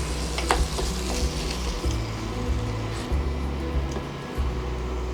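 Minced meat sizzling in a hot pan while sultanas are stirred through it for a spicy bobotie, a steady crackling fry close up with the scrape and thump of a spoon moving the mixture at irregular intervals.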